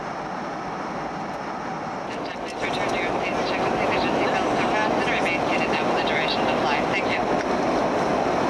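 Steady airplane cabin engine roar during the descent into landing, a continuous broadband drone that grows slightly louder partway through, heard from inside the cabin.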